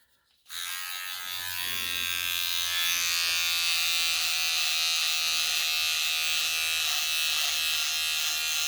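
An Andis Slimline Ion cordless shaver, model 25190, switches on and runs with a loud, steady close buzz that grows slightly stronger and holds as it shaves.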